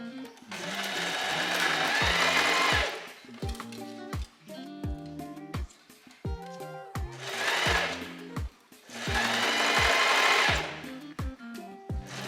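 A sewing machine stitches around a gathered dress in several loud bursts of fast whirring, stopping and starting with short pauses and mechanical clicks between runs, and a voice is faintly present.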